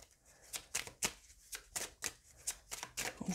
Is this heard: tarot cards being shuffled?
yes